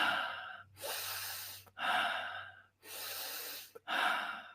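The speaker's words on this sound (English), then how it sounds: "alkaline breathing is essentially deep inhalations through the nose and exhales through the mouth" Deep breaths taken in alkaline breathing: long nasal inhales alternating with forceful mouth exhales, four breathy bursts in a steady rhythm, close and alone over a soft low hum.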